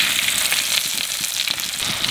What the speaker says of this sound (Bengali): তেলের উপর দিয়ে দেবো কালো জিরে আর কাঁচা লঙ্কা